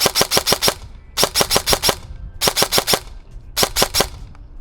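Lancer Tactical Programmable Gen 3 Mk18 airsoft rifle firing four quick bursts of about five rapid, evenly spaced shots each, loud and close, with short pauses between bursts.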